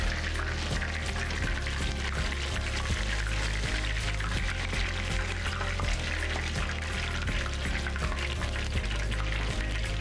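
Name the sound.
oil draining from fried cod fillet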